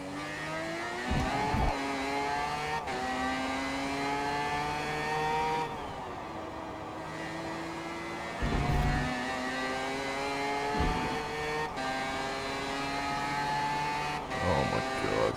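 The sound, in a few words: race car with 20B rotary engine driving, from video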